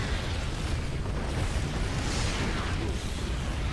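Tank fire and explosions in StarCraft 2, a dense continuous rumble of booming blasts and artillery with no clear pauses, loud and filling the mix.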